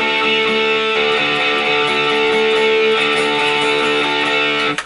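Distorted electric guitar with the fourth string fretted at the seventh fret, ringing as a sustained, buzzy, saturated note that holds steadily for several seconds before a brief pick scrape at the end; close and loud with no talking.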